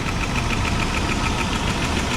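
A 1988 Dodge Power Ram truck, revived after sitting for 23 years, running with a loud, steady knocking idle and rough mechanical vibration, close up and continuous with no talk.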